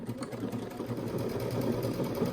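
Luminaire sewing machine running steadily through decorative character stitches, a continuous near whirring hum with rapid needle rhythm throughout, no voices.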